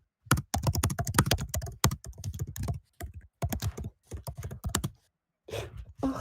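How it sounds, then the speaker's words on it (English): Typing on a computer keyboard: rapid clusters of close, crisp key clicks in uneven bursts with brief pauses, ending in a softer shuffle. "Keyboard."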